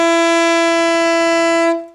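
Alto saxophone sustaining a single C sharp played with no fingers down, a steady, clear held tone lasting under two seconds before cutting off.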